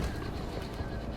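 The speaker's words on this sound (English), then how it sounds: "Actually, those are probably just birds." Birds cooing softly in the distance, a low pigeon- or dove-like call repeating faintly against a steady ambient hum, with no voices over it.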